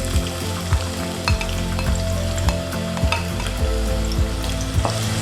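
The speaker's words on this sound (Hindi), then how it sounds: "पैन में लिया हमने आधा कप ऑयल और इसमें ये प्याज डाल देंगे" Chopped onions frying in half a cup of hot oil in a pan for bheja masala, a loud continuous sizzle with scattered crackles and occasional clatters of stirring, no voices.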